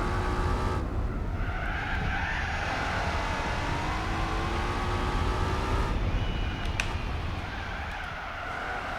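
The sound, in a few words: car tyres spinning and squealing on cold tires, Gran Turismo 4 video game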